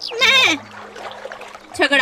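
Cartoon goat bleats in a short wavering cry near the start and again at the end, loud and close, with a narrated story voice around it.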